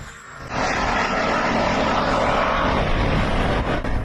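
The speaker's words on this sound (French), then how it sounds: "Ce n'est pas un drone, mais un missile de croisière subsonique." A subsonic cruise missile flies over Ukraine, making a loud, steady broadband roar that swells in abruptly and holds through the clip, with no voices.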